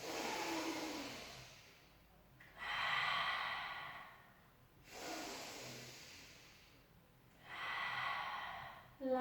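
A deep breath drawn in during a Pilates stretch: slow, airy inhales and exhales repeating in long swells, close and fairly quiet, with no talking.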